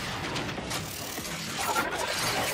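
An elevator mechanism in the video game Transformers: War for Cybertron grinds and clanks with a steady mechanical rattle, rising slightly toward the end, with no voices over it.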